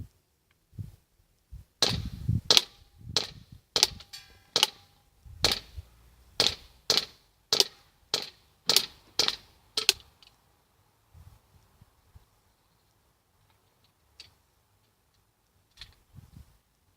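Hi-Capa 5.1 airsoft pistol firing 14 BBs from a 25-round magazine: a rapid series of sharp, crisp clacking shots at a steady rhythm, followed by a few sparse faint clicks after the magazine runs empty.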